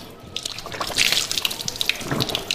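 Water poured by hand over a forearm during ablution, splashing and trickling close by in a few uneven gushes, with drips between and no talk.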